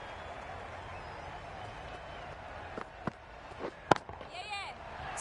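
A cricket bat cracks sharply against the ball in Cricket 22 on PS5, during a women's World Cup match between India and New Zealand. One crisp hit rises out of steady stadium crowd noise, with a few fainter knocks around it.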